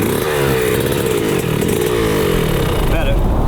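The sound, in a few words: motorcycle engine revving while shifting gears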